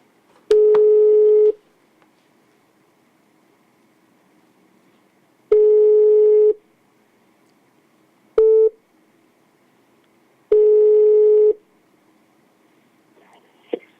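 After a cut-off phone call, a telephone line sounds a loud repeating tone: four one-second beeps at even intervals with a short chirp between them, alone on a quiet line.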